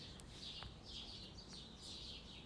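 Soft birdsong from a soundtrack, with small birds tweeting in repeated chirping phrases at a low, even level and no voices.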